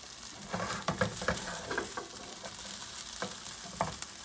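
Potatoes for southern home fries sizzle in a pan, a steady close crackle of hot oil broken by several louder stirring and shifting bursts as the pieces are moved.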